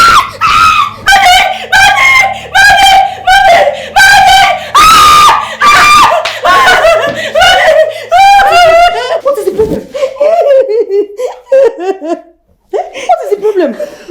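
A girl screams loudly and repeatedly after waking from a nightmare, with sustained high shrieks broken by sobbing, laugh-like gasps. The screams fade into quieter whimpers near the end.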